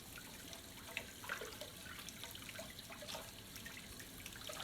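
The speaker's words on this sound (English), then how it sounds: "I'm gonna rinse it off." Tap water runs and splashes faintly and steadily as freshly glazed pottery is rinsed, with small irregular drips and spatters over a constant hiss, and no voices.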